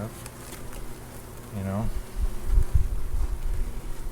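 Honeybees buzz softly and steadily around an open hive during an inspection, a low hum beneath nearby talk and handling noise.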